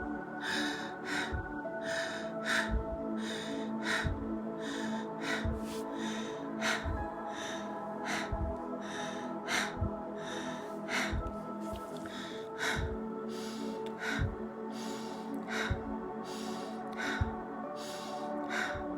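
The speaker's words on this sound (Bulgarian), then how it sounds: "Нека да започнем дишането, а то се случва така." A guided deep-breathing exercise: forceful breaths repeat in a steady, quick rhythm, roughly sixteen across the stretch, each a short burst of air over continuous soft background music, with no talking.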